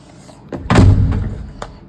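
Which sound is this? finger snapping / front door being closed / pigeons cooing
front door being closed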